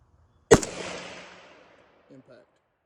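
A single sharp AK-47 rifle shot fired through trees toward a steel plate, loud and close, with a decaying outdoor echo, followed by brief speech.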